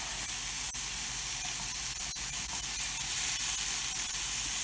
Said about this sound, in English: We're just going to break up the bison and get it nice and brown